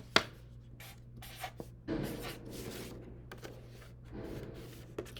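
A pencil scratches and rubs on paper as numbers are written out for a teen-number flip book, with close, uneven strokes, a sharp tap at the start and scattered scrapes throughout.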